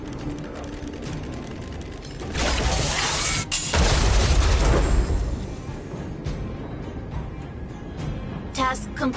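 A loud burst of shattering, booming blast noise from Automaton Spiders detonating in the video game Honkai Star Rail, rising suddenly and rumbling for a few seconds before fading into game ambience with voices around it.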